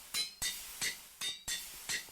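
A pickaxe or hammer repeatedly crushes limonite ore in a modded Minecraft GregTech game, six sharp clinking strikes at a steady, quick rhythm, close and distinct, with no voices.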